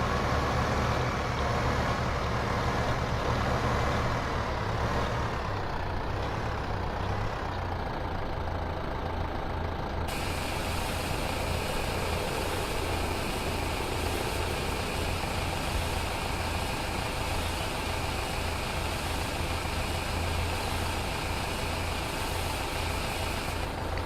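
Truck engine in Farming Simulator 2015, hauling a wheat trailer toward a windmill on the Norgeholm map; a loud, steady low engine drone runs continuously throughout, with a constant high whine layered on top.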